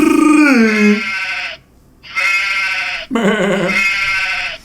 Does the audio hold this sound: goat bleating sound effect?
yes